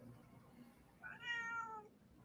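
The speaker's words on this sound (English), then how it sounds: "Oh, I hear your cat." A pet cat indoors gives a single drawn-out meow, rising then falling, faint and somewhat distant over quiet room noise.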